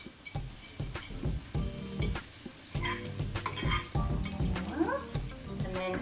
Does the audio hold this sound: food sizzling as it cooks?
yes